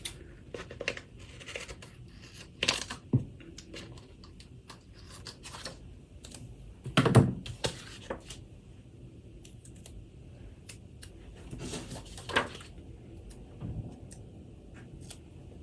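Scissors cutting planner paper in a few separate snips and rustles, close and quiet, with short pauses between cuts.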